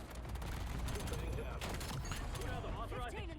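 Rapid automatic fire from the M8A1 rifle in Call of Duty: Black Ops 7, a dense, continuous stream of close gunshots that runs the whole time under a busy game mix.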